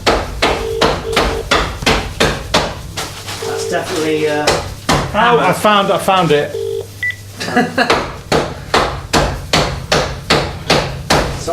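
A burger is bashed with a big rolling pin in a kitchen, heavy thuds repeating in a steady rhythm, loud and close, pausing briefly while people talk and then resuming.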